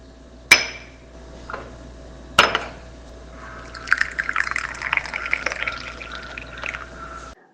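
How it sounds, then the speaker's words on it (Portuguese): Hot water poured into a coffee filter, with two sharp clinks of crockery followed by a steady, close trickle and splash of liquid draining through. "Coloco a água no filtro do café e sinto um aroma"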